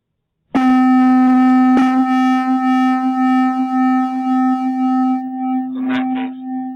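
Two steady pure tones at almost the same pitch sound together loudly, their combined level swelling and fading in slow beats for several seconds before a brief burst of other sound near the end.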